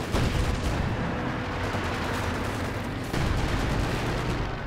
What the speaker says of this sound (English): Artillery striking down like the wrath of a vengeful German god.